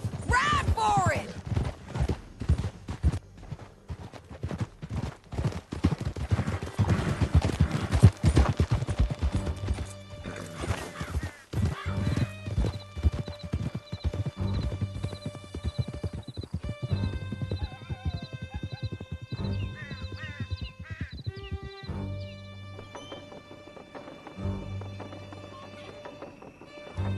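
Horse hooves galloping in the Red Dead Redemption 2 video game during a chase through a canyon, a steady rapid clip-clop with neighs, under shouted voices, music and game effects throughout.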